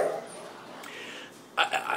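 Dogs running in circles around parked cars outside, giving a couple of short, fairly close barks near the end after a quieter stretch of faint background noise.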